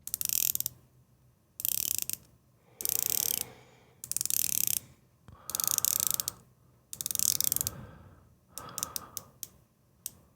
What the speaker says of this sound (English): let me bump the volume on this mic, and we'll do a little bezel ASMR for you